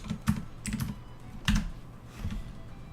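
Keys on a mechanical computer keyboard are pressed in short, close clusters of clacks with small pauses between them, alone without talk.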